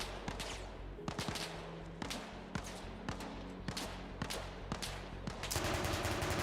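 Rapid bursts of automatic gunfire from a tank combat video game, with a hatch open and smoke deployed, loud repeated volleys crackling in quick succession across the scene.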